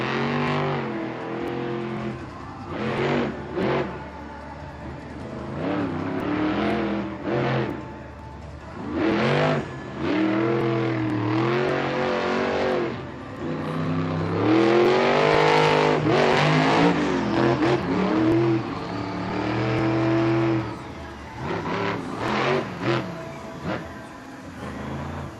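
Monster truck Mayhem accelerates hard around a Monster Jam arena track in Atlanta, its loud engine surging and revving in repeated bursts, with roaring crowd and arena noise throughout.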